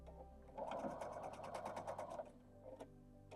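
A sewing machine stitches quilt scrap pieces in one short, quick run of rapid motor-driven needle strokes, close but quiet, with a faint steady hum before and after.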